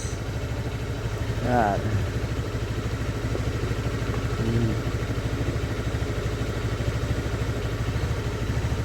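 A Honda Beat FI scooter engine idles steadily with a low, even putter and faint clatter, someone talking briefly over it.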